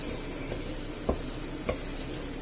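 Flour is stirred into a clam sauce in a pan, making a soft, continuous sizzle. Two faint clicks of a utensil against the pan stand out, with no voices.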